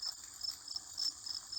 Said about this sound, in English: Yep, the radio's still buzzing